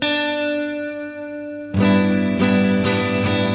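A guitar chord fingered with the thumb on the third fret of the low E string rings out, sustained and fading, then is struck again in several firm strums, close and alone.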